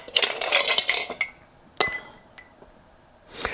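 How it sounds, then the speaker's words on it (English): Ice cubes dropped into a glass for a whiskey cocktail give a quick run of bright clinks, then two sharp separate knocks and one last rattle, close and clear with no voices. "I'm going to take some ice cubes"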